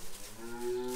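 A dairy cow on a farm lets out a single drawn-out moo with a steady tonal drone, close and moderately loud, with no talk over it.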